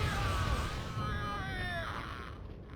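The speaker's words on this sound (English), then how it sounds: "Listen to that death scream." A drawn-out wailing death scream from an enemy in the shooter game Warhammer 40,000: Fire Warrior, wavering and falling in pitch over steady game background noise.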